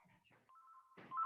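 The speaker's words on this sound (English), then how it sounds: "Whoever's got their phone in the background, could they meet?" Phone ringtone sounds faintly in the background of a council licensing meeting, a short steady electronic tone that rises in loudness toward the end, with no voices over it.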